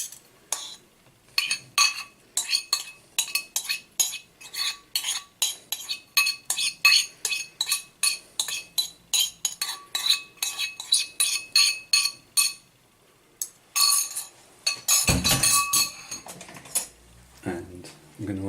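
Leftover potato and peas go into a pan already holding tempeh, onions, garlic and cayenne peppers, with a long run of quick, bright metallic clinks and scrapes of a utensil against the pan, ending in a louder clattering burst.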